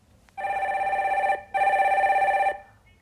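A telephone rings as a caller is connected during a live stock-market broadcast: two long, steady electronic rings separated by a brief gap, loud and close, with nothing else heard.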